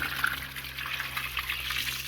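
Water running steadily through the flush valve of a solar-powered domestic well pumping system, a continuous close hiss and gush with no pauses.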